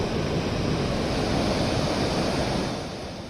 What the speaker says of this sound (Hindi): अभी आप देख सकता है कि ये सीशोर में सी कितना रफ है।